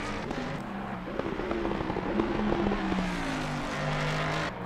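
Race car lapping Bathurst in a PC racing game, engine note rising and falling through gear changes as it pushes through the corners, close and continuous with no talking.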